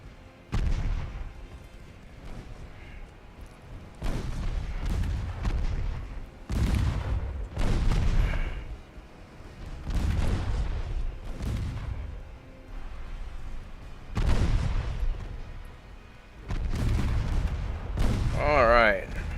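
Naval gunfire in the video game Ultimate Admiral Dreadnoughts: repeated heavy booming salvos at irregular intervals, each with a long rumbling decay, loud and dominant, with faint other game sounds between shots.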